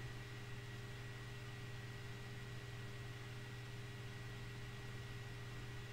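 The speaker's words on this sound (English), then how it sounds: "there's still that horrible humming noise from my transformer" Steady electrical hum from a transformer in an indoor art workspace, a continuous drone with constant tonal lines under faint broadband hiss, unchanging throughout with no speech.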